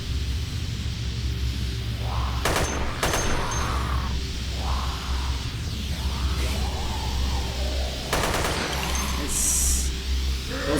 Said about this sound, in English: Alright, so I guess I'm gonna get to try out this wonderful gun here